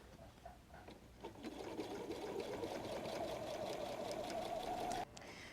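A domestic sewing machine stitching steadily over bulky pleats of a messenger bag, with the fleece removed from the seam; a continuous, close whirring hum with a rapid needle rhythm that stops abruptly near the end.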